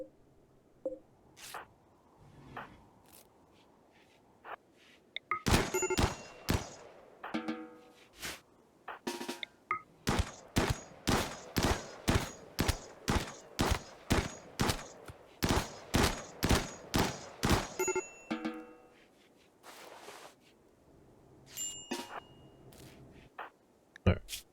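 Gunfire from a firefight in the video game RimWorld: rapid bursts of sharp shots, first scattered, then a long dense volley of evenly spaced cracks, tapering to a few isolated shots.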